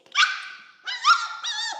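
A six-week-old F1B Mini Goldendoodle puppy gives two short, high-pitched yipping barks close by, with a brief pause between them.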